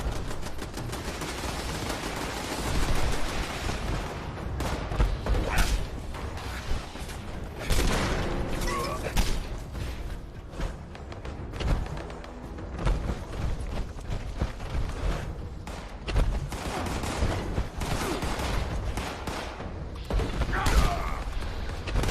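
Automated turrets in Fallout 76 fire long, dense volleys of gunshots with mechanical clanks and booms, loud and sustained throughout with no pause.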